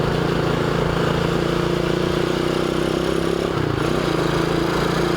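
Restored Dax 125cc Toro motorcycle with the exhaust baffle fitted on an NHRC-type exhaust, its engine running close at a steady putter with a brief dip in revs.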